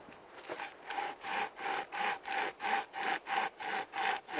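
A Nordic Pocket Saw, a hand-pulled chainsaw, cutting through wood in steady rhythmic strokes, roughly a dozen even rasping pulls that grow louder and more regular, close and alone.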